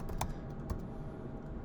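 Soft, quick tapping of computer keys, a brief run of faint clicks over steady background hiss as a command is entered.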